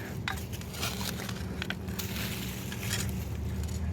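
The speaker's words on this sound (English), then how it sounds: "It's crystal glass. You can hear it." Crystal glass shards clink and crunch while being dug out of dirt, scattered sharp ticks and crackles over a scraping, gritty background.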